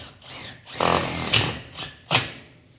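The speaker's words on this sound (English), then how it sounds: "So he's going to chuck in a screw now." A power drill drives a screw into a new shed roof sheet in short bursts, with a rising whir and a couple of sharp spikes as the screw bites, heard close with no talk.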